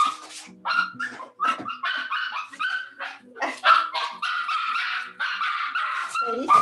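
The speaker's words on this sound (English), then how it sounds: "Sadie is a Maltipoo. She's my niece's dog, And she just walked in the door, so she's very excited." A small Maltipoo named Sadie, just arrived and excited, yips and barks in rapid, uneven bursts with whimpering between, close and loud for several seconds.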